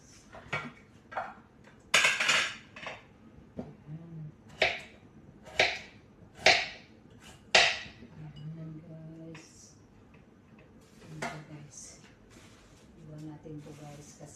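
Plates and cutlery clink and snap in sharp, irregular knocks during home cooking of chicken being sliced, close and fairly loud, with low murmured talk between the clatters.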